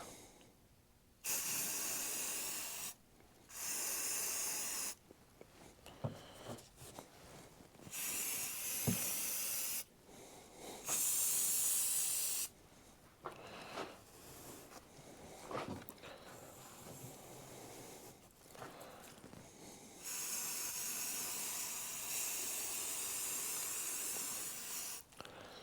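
Aerosol primer sprays in repeated short hissing bursts of a few seconds each onto a 1943 Case SC tractor air cleaner bowl, close and fairly loud, with quiet pauses and small handling clicks between passes.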